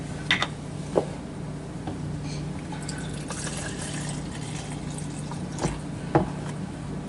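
Milk being poured into a bowl with four eggs before beating, a steady liquid pour running throughout with a few small drips and clinks, close and fairly quiet.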